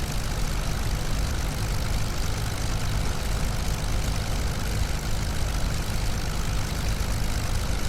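A P-40C Tomahawk II propeller fighter taxiing on an airfield, its piston engine and propeller giving a loud, close, steady throbbing drone that continues unbroken throughout.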